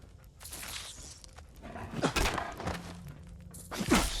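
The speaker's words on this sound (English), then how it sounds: "I'm pretty sure I just smacked dog meat." A melee strike lands on the dog Dogmeat in Fallout 4, a couple of dull thumps in a short scuffle, with a dog's yelp or whimper near the end over faint game ambience.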